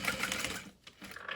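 A sewing machine top stitches a tote bag, a quick, close mechanical whir of rapid needle strokes that stops briefly and then starts up again for a short burst.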